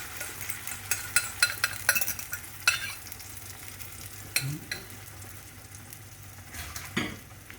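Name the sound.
stirring egg, onion and pancetta frying in a pan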